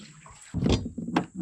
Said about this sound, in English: Let's get some water in there first though